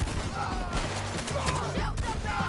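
Gunfire crackles in a Red Dead Redemption 2 shootout near a bridge, a scatter of sharp shots under shouting voices and chaotic background noise.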